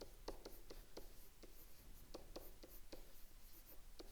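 Pen strokes on paper as a function is written out by hand, a quiet, steady series of short scratchy taps and scrapes in irregular rhythm.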